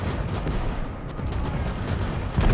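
Artillery fire in the age-of-sail naval battle game Ultimate Admiral: Age of Sail, a dense rumbling wash of booming cannon and gunfire rolling continuously, with a heavier blast near the end.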